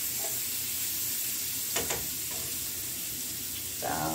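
Salmon sizzles in a hot pan with a steady, close frying hiss, broken by a couple of brief clinks and a short spatter near the end.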